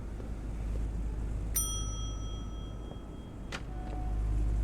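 A single bright ding from a front-desk service bell in The Wolf Among Us game, with a long ringing decay, heard once over a steady low room hum; a second faint tap follows near the end.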